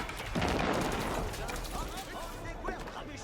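Rapid bursts of gunfire from units shooting in the real-time strategy game Age of Empires 4, a dense, continuous crackle of volleys heard under a voice talking.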